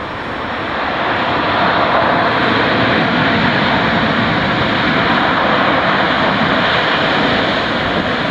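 A Boeing 747 airliner landing hard, a loud sustained engine roar that swells within the first second and holds steady and close throughout, with no voices.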